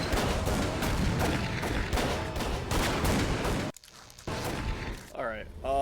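Rapid, dense gunfire in the video game Call of Cthulhu: Dark Corners of the Earth, loud bursts layered with shouting voices, then a brief lull before more shots and a voice break in.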